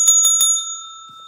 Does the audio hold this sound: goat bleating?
no